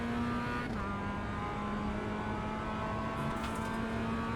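A Mazda MX5 engine in iRacing drones at steady high revs under acceleration on a straight, with a sustained buzzing tone and a brief shift in pitch, loud and close with no talk.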